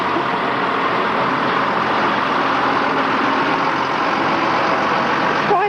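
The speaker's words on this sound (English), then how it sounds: "Quite appropriate that a beer lorry should be in our way." A beer lorry's diesel engine idles and grinds steadily close by as it reverses, a continuous heavy rumble with no breaks and no voices.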